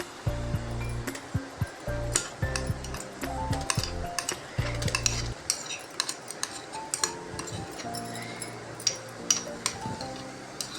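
Coarse garlic, ginger and green chilli paste is spooned into a pan while cooking desi-style guar beans, with sharp metallic clinks and taps of a spoon on the pan, scattered and close, over a low hum that fades midway.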